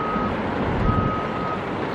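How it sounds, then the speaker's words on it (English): Reversing beeps from trucks being filled by loaders at the Tropicana Las Vegas demolition site, a steady high beep over a continuous low rumble of heavy machinery. "And they got trucks down there with loaders just filling them up also."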